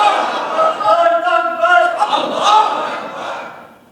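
A crowd of worshippers, likely in a mosque, shouts a religious slogan together in a loud, sustained group chant with rising and falling voices.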